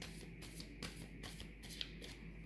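Tarot cards being shuffled by hand, with quiet, rhythmic riffling bursts repeating several times in quick succession, close up over a low steady hum.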